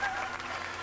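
Applause from a crowd at a live event, a steady broadband patter of clapping holding at moderate level for just under a second, with a little voice mixed in.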